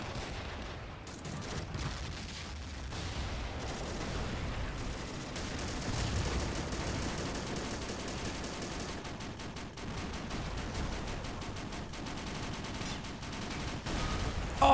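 British mortars and gunfire rattle through a World War II hill fort attack in the Men of War Assault video game, with dense, irregular bursts of shots and dull thumps rolling on continuously at moderate loudness.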